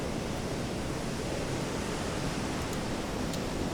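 Ocean waves in the submarine game Silent Hunter 3, a dense, unbroken roar of surf and wind that washes steadily and loudly throughout, with no voices.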